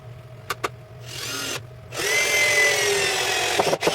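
A power drill drives long screws into wood to mount a woodworking vise, giving two whirring bursts, a short one then a longer, louder straining run, with small clicks and taps between.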